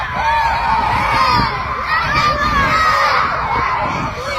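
A crowd of kids screams and shouts on a bus, a loud, continuous chaotic din of high shrieks and yelling voices that carries on steadily without a pause.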